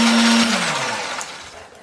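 A blender grinds kencur, garlic, chili and grilled shrimp paste, a loud steady whir whose motor pitch drops partway through as the blades bite into the mixture, then trails off more quietly.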